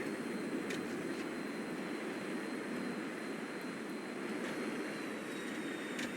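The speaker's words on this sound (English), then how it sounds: "Dumb computer simulated aircraft" A simulated aircraft in a flight simulator video game gives off a steady, loud broadband engine roar that holds constant throughout, with faint clicks and no talking.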